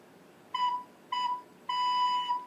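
A recorder playing the note B with tongued articulation: three clean, tongued tones, two short and a longer held one with a slight re-attack, moderately quiet and alone.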